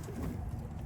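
Pigeons coo low and steady inside a backyard loft, a soft continuous murmur of several birds close by with no voices over it.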